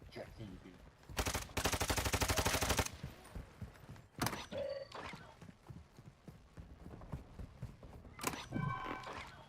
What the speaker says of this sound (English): Are you just showing off that you can fire my gun?